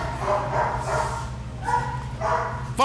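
A Dutch Shepherd barking at intruders on private property, with a few sharp, fairly close barks and yips over a low background hum, ending in a loud burst at the end.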